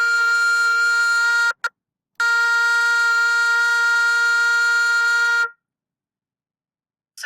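A single low B flat held steady on a wind instrument, briefly broken off, then played again for several seconds before stopping; bright, buzzy, close and alone.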